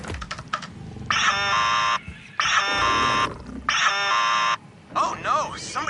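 Alarms blaring in the Borderlands 4 video game: three long, steady electronic tones in a regular on-off pattern, each lasting about a second, loud and close over a busy background.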